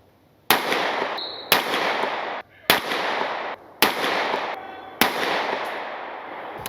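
Five loud, close pistol shots from a Sig P365 XMACRO firing 124 grain Gold Dot ammunition at a 25-yard bench, evenly spaced about a second apart, each blast followed by a brief ringing decay.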